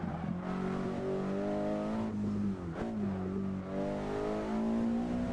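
A Cadillac engine drones steadily in a driving video game, holding a continuous tone with slight pitch shifts as the car accelerates and eases off, loud and alone.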